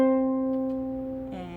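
Harp C strings ring with the pedal pushed down one notch, a sustained tone that decays before a second pluck sounds near the end.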